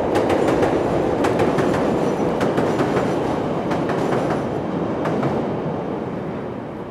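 A train rolls past loud and close on a Chicago street, a steady heavy roar with rhythmic clickety-clack wheel clatter across the rails, easing off slightly near the end.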